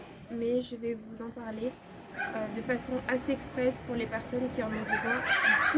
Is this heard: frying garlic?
no